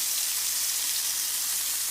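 Venison searing in a pan over a camp heat source, a steady, dense sizzle that stays close and even throughout, with no pauses and no voices.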